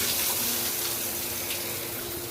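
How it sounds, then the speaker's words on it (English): Hotel shower running steadily, a continuous broadband hiss of water spraying close by, alone with no talk over it. "I'm going to turn on the shower and check a couple different things."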